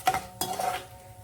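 A spoon stirs fried tempering into carrot chutney in a metal pot, giving two quick scraping clinks followed by softer scraping and stirring, close and fairly quiet with no talk.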